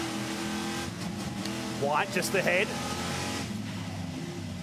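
Stadium Super Trucks race through the Decathlon hairpin at the Adelaide street circuit, engines droning steadily with a brief louder rev surge midway, heard under continuous race commentary.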